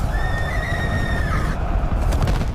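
A horse whinnies with a long, bright, wavering call that fades after about a second and a half, set over a dense, rumbling background.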